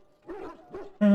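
Dog in the Dragon Age video game making two short whining yelps, then a louder sustained bark-like cry at the end, close and clear with no talking.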